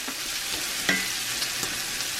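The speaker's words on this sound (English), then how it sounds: "We'll make the roux right in the pan with the sausage, and then about a tablespoon of flour." Sausage fat and flour sizzle in a cast iron pan as a roux forms, a constant close hiss with a few faint scrapes and clinks of stirring.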